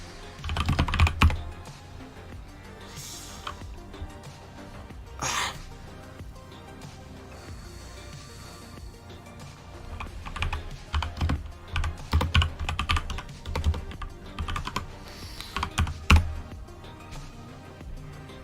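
Clattering keystrokes on a computer keyboard come in uneven bursts with pauses between, close and fairly loud, sometimes fast runs, sometimes single taps.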